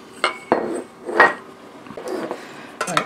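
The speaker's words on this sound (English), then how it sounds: "let me ladle some into breakfast bowls" Steel cut oats with banana being ladled from an Instant Pot pressure cooker into breakfast bowls, irregular close clinks and knocks of ladle against pot and bowls with soft scraping in between, no talk.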